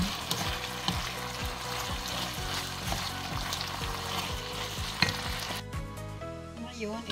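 Pork sizzles loudly in a frying pan while being stirred, with a steady crackling fry and repeated scraping strokes of the utensil, which stop near the end as the sizzle fades.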